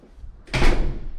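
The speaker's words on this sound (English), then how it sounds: "Right when you first walk in the door" An apartment door swings open at the entry hallway of a large one-bedroom unit, giving a single fairly loud, broad whoosh and bump that rises at once and fades out slowly, with no voices.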